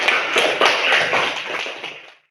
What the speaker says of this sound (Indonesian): Kita berikan aplaus kepada teman-teman yang sudah menyampaikan.